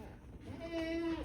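A goat on a goat farm lets out a single short, faint bleat with a wavering tone, partly under a man's speech.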